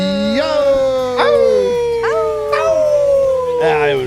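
A man howls like a dog in a series of loud, close, rising-then-sliding vocal howls, about four in a row.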